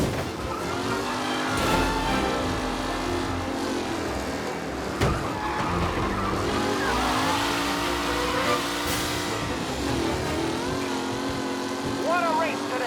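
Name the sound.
race cars driving in the video game Mafia: Definitive Edition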